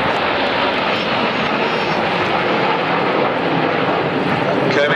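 Aerobatic display aircraft flying a tight formation roll at the Farnborough airshow 2010, their engines giving a steady, loud, continuous roar throughout, with an announcer's voice talking over the noise.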